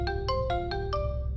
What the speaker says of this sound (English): my phone rang.